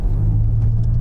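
Synthesized driving sound from a Genesis GV70 electric car, a smooth, loud, steady low hum with a refined tone, heard up close and alone.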